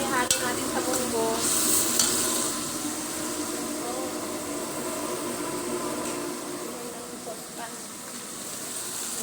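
Chicken breast stirred into a pot of cooking mung beans, a steady scraping and bubbling simmer with a few louder clatters early on, continuing throughout at moderate closeness.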